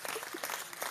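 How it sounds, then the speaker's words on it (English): Audience applause at a live fanfic writers' panel, a steady wash of many hands clapping throughout a brief moment, fairly faint and diffuse. "Everybody give Freckles a round of applause"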